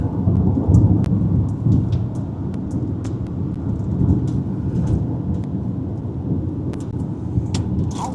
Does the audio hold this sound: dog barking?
no